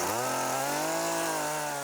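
A chainsaw runs loud and close while cutting tree limbs, its engine holding a steady high whine that rises slightly in pitch as it works, with no talk.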